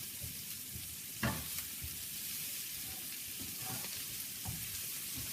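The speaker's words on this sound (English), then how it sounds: "I'm just going to add 1 chunk of butter for right now." A chunk of butter melts and sizzles in a pan of seasoning, ahead of cooking garlic butter shrimp, giving a steady soft crackle with occasional light stirs and scrapes.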